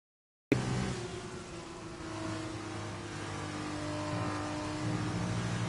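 F2 race cars in a racing video game scream past after an abrupt start, a sustained high engine whine over a dense mechanical roar that holds steady for several seconds, fairly faint, with no talk over it.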